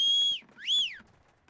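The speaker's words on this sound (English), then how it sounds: "I like when he whistles like that." A character in the game Black Desert Online whistles two clear notes, a long steady tone and then a rising-and-falling swoop, close and alone.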